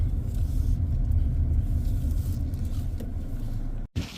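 A car rolls slowly into a parking spot, giving a steady low engine and tyre rumble that eases off, then a brief dropout near the end.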